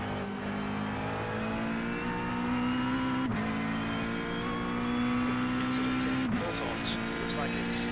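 A GT3 race car's engine drones steadily in a racing simulator at Brands Hatch, holding a near-constant pitch with brief dips at gear changes, while someone talks over it.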